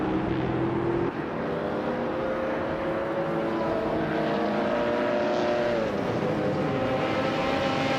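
Race cars in a racing video game roar steadily throughout, engine pitch climbing and dropping as they jostle and overtake, with one shift in tone around the first second.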